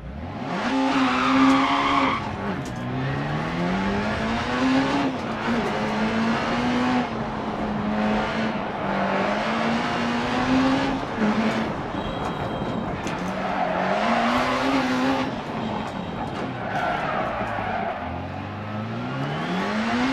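Rally car in Dirt Rally revving hard and sliding, engine pitch rising and falling through gear changes with tyre scrabble over a loose surface, loud and continuous for the whole stretch.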